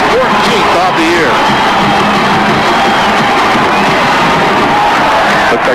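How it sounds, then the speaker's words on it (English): A big stadium crowd at a college football game roars and cheers steadily after a Bulldogs touchdown pass, with whoops and shouts piled into a loud, dense wash that never lets up. "Crowd really getting with it"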